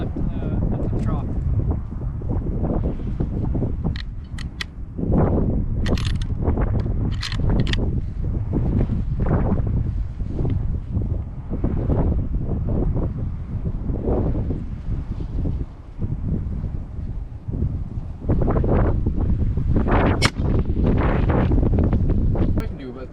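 Wind gusting across an outdoor shooting range during a 6.5 Creedmoor expansion test, a steady low roar buffeting the microphone throughout, with people talking over it.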